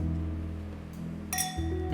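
Wine glasses clinking together in a toast, one bright, ringing clink that lingers briefly over a low background hum.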